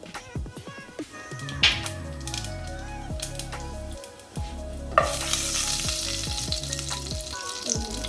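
Whole cinnamon, cloves, cardamom and cumin fry in hot oil for a green chicken dish, giving a loud, steady sizzle and crackle with occasional stirring clinks and a sharper hiss partway through.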